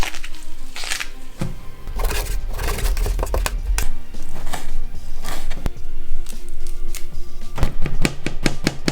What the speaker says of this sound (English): I'm just going to prepare some parsley and garlic all chopped up